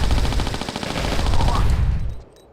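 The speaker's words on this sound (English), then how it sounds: "As soon as she points her weapons, just fire." Lara Croft's pistols fire in Tomb Raider 4: The Last Revelation, a rapid, loud, evenly spaced burst of gunshots lasting about two seconds before cutting off into near silence.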